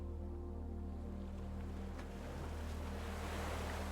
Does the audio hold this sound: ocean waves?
yes